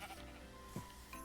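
A single short sheep bleat from a small pen in Minecraft, faint and brief amid quiet game ambience.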